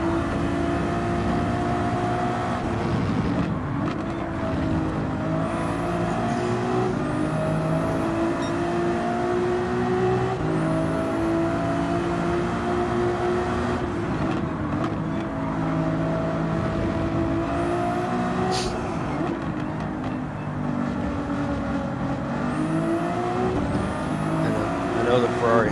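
Race car engine in a racing video game, revving and shifting through the throttle in steady, continuous waves, loud and up close, with a voice talking over it throughout.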